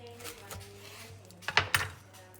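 Knife cutting through a freshly baked loaf of Turkish bread, soft sawing strokes then a few sharp clicks and taps of the blade against the board near the end.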